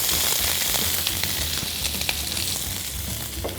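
Chopped onions fry in a pan while cooking rice with onion and egg, giving a steady close sizzle with scattered crackles and pops throughout, no voices.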